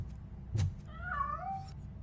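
A cat meows once in the RoboCop Rogue City video game, a short rising and falling call over a low game background hum.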